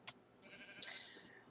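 Two short, close sheep bleats from Minecraft, the second one longer and wavering, against quiet background.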